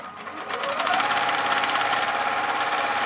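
A sewing machine stitches down a seam on a beginner's pocketbook, starting quietly and then settling into a fast, even whirring hum that runs steadily to the end.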